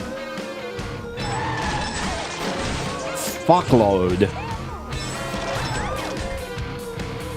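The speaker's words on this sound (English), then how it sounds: "Crashing a lot on stream" Crazy Taxi video game car crash, a sharp smash around the middle among game music and effects, while someone talks over the action.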